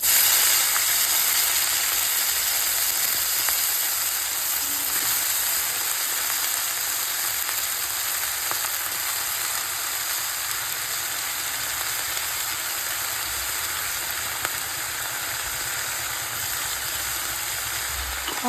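Chopped banana flower sizzles steadily in hot oil in a pan, a loud, dense and continuous frying hiss with small crackles throughout, heard up close and alone.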